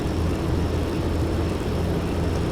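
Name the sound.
Luftwaffe bombers approaching in Flight Simulator video game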